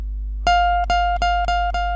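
A plucked electric guitar note bent up from the 17th fret rings steadily, struck about five times in a slow, even rhythm, each pluck sounding clear and close.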